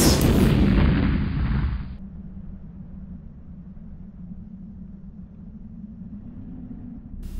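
Spaceship weapon fires at an enemy ship in a loud, booming blast that lasts about two seconds, then fades into a low, steady rumble that continues underneath.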